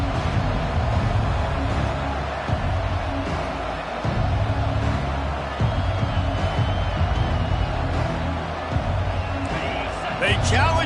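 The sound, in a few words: stadium crowd noise in video game EA Sports College Football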